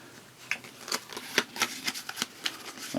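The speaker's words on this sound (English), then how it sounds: "We'll shuffle up this one." Cards from the Eldritch Horror board game are shuffled by hand in a quiet room: a string of crisp, papery riffling bursts and snaps, several close together over about three seconds, close and moderately loud.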